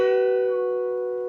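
A single electric guitar note on the G string rings out clear and sustained, slowly fading over about a second and a half with no other sounds.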